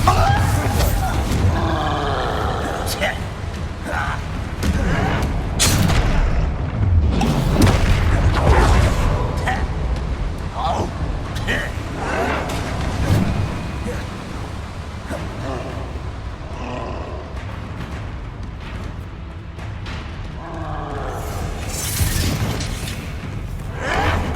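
Spell explosions from the Bombarda curse in Hogwarts Legacy, loud booming blasts amid roaring creature growls and chaotic battle noise over a long stretch.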